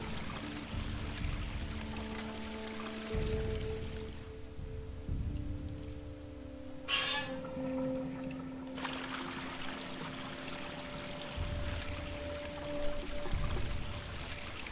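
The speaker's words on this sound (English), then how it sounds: "Water's just flowing for no reason." Water flowing steadily in the video game Quern, a continuous rushing pour with faint tonal hums beneath, broken briefly by a quieter stretch and a sharp click, no voices.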